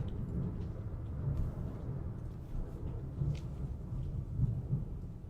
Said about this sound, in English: yeah, that's thunder